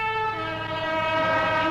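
A passenger train runs at speed with a steady loud, tonal drone and continuous rumble, close and unbroken throughout.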